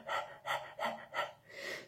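A person imitates a panting dog, rapid huffing breaths in a steady rhythm, four quick close puffs then a longer exhale.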